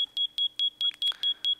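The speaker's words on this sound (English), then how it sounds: "Now, one cool thing about the fire alarm is that it will also put off a redstone signal" Fire alarm in a Minecraft furniture mod beeping in a steady, evenly spaced run of eight short, high electronic beeps, loud and close, with no talk over it.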